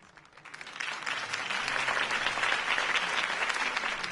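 Crowd applause from the Batman Telltale Series game, a sustained wash of clapping that swells in the first second and then holds steady and loud to the end with no voices over it.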